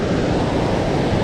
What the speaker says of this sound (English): right now the water's really high. Obviously because it's spring, but it's beautiful and it's just roaring.